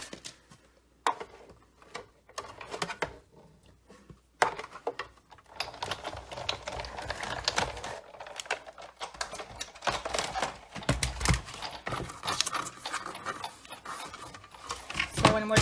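A die cutting machine cranks paper pieces through for a Stampin' Up! coffee cup gift bag, giving a busy run of clicking, rolling mechanical clatter that keeps going with short pauses and a louder thump near the end.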